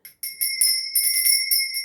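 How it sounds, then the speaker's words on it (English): A hand bell rings several times in quick succession to cleanse a space, bright sustained metallic tones that shimmer close and loud, struck again and again with no talking. "I'm going to be ringing my bell"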